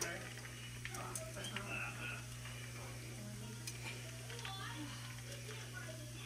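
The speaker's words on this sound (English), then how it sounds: "We just have to wait for that sausage to cook" Sausage frying in a pan, a faint steady sizzle with occasional stirring clinks, heard under a constant background hum with people talking nearby.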